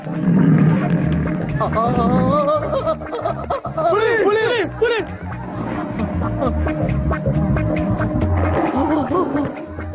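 A tiger roars in a Tamil action film scene, a loud growling roar rising over busy music and effects, with voices talking at several points throughout.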